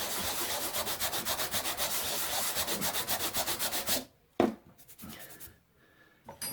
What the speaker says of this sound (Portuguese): Dá uma lixadinha aqui.